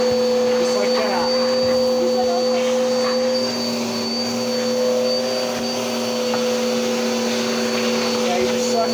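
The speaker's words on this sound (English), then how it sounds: "you gotta suck out all the dust. So you just suck everything out." A vacuum draws dust out of a basement window frame before caulking, giving a loud, steady, whining drone that holds for the whole stretch, with talk faintly underneath.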